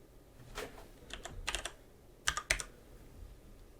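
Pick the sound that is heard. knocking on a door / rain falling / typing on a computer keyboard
typing on a computer keyboard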